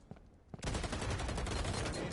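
Dense, continuous rapid gunfire erupts after a couple of isolated shots in a competitive video game match, loud and sustained with no talk over it.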